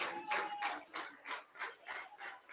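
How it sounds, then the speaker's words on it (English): Spectators at a baseball game between the El Dorado Broncos and Hays Larks clap in a steady rhythm, about eight evenly spaced bursts of moderately loud crowd applause. "Crowd getting behind Derek Feige."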